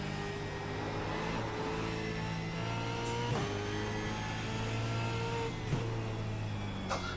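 Simulated Supercars race car engine in iRacing, a continuous high-revving drone with shifting pitch and brief sharp gear-change blips, steady and prominent with no talk over it.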